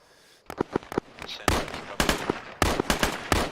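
Gunfire in the video game Arma 3 during an infantry fire-and-manoeuvre exercise: sharp irregular shots and short bursts crackling close by, bunched into rapid clusters with brief gaps.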